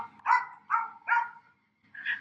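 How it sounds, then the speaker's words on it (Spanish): A small dog barks four times nearby, short sharp yaps in a loose series with a brief pause before the last one, with no talk over them. "disculpen por el perrito que está por ahí ladrando"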